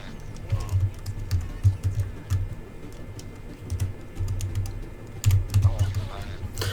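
Computer keyboard keys clatter in quick irregular bursts during play of the platform game I Wanna Be the Boshy, close and crisp, with brief pauses between flurries.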